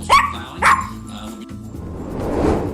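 A dog gives two loud, close barks in quick succession, followed by a lower, softer trailing bark as the sound fades into a rough background rumble.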